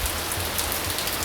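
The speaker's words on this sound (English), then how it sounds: "So today is another incredibly rainy day" Heavy rain pours down in Florence, a dense, steady hiss of drops drumming on surfaces and large umbrellas outside an empty restaurant, with no voices.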